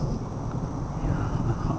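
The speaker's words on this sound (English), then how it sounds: "there's some thunder" Low rumbling thunder from a storm over a garden pumpkin patch, a steady deep roll lasting throughout, moderately loud with wind noise and no talk.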